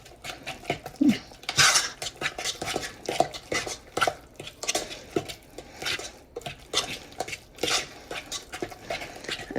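A spoon or spatula beats egg into thick cream puff dough in a bowl, giving irregular scraping and clacking strokes against the bowl's side, fairly close and steady, with no talking.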